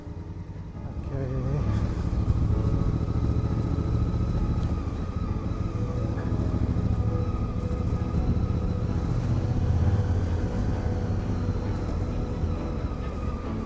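A Honda Africa Twin motorcycle rides along a road in Portugal, its engine a steady close-up drone mixed with wind rush that holds throughout, with a slight rise in pitch early on.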